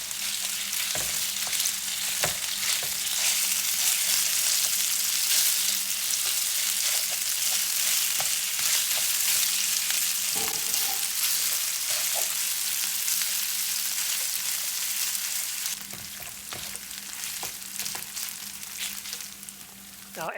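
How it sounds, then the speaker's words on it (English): Longganisa sausage fries in a pan for fried rice, a steady, dense sizzle and crackle with occasional stirring scrapes, continuous and close throughout. "Now add the longanisa and fry until the meat is cooked all the way through"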